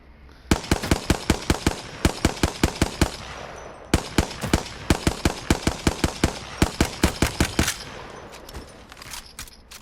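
A Hemlock gun in a video game fires rapid bursts of sharp, loud shots in steady rhythmic runs, pausing briefly between volleys.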